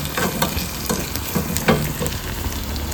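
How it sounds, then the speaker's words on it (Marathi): Food sizzles steadily as it cooks in a hot pan, with scattered scraping and clinking taps of stirring spread across the few seconds; no one speaks. "तर अशा प्रकारे आता बघा ही शिजत चाललेलं आहे"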